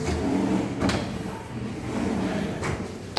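Wooden kitchen drawers and pullouts slide open and shut in a few smooth rolling strokes, each ending in a soft bump.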